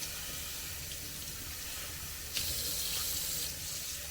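Running tap water pours steadily into a sink strainer of soaked oats, a continuous close splashing rush with a brief louder surge midway.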